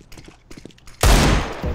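Video game gunfire breaks out after a second of quiet background sound, heard as a sudden loud burst of rapid shots that carries on at a steady level to the end.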